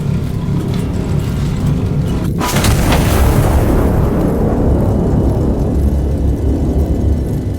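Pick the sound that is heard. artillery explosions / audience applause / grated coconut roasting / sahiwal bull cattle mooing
artillery explosions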